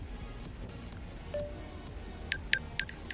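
A mobile phone is pulled out in GTA 5, giving a short series of crisp electronic beeps and one soft tone, faint against a low steady game background.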